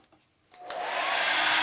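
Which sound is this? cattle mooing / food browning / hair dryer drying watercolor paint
hair dryer drying watercolor paint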